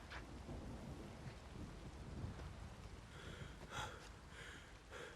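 Thunder in a lightning storm in The Witcher 3 rolls as a continuous low rumble under steady rain, with a brief swell near the middle.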